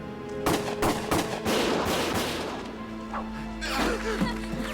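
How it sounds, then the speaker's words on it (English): Gunfire rings out in the video game Valkyria Chronicles as a burst of sharp cracks, then rattling bursts and blasts over a droning background, with loud shots near the start and again toward the end. "Gunfire!"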